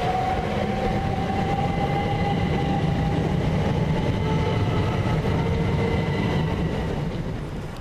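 A Class 377 electric train leaving Havant station on the Brighton to Portsmouth Harbour service, a continuous loud rolling rumble with a faint whine, steady throughout and easing slightly at the end, no voices.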